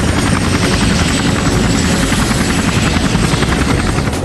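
A helicopter flies overhead on an aerial reconnaissance flight, its loud, close rotor chop and engine drone pulsing steadily and unbroken from start to finish.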